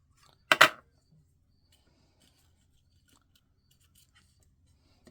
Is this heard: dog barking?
no